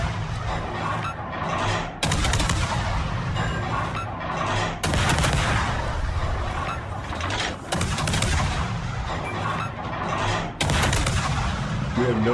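Heavy naval gunfire in World of Warships, with booming broadband salvos that hit at intervals of a few seconds over a dense, continuous battle din.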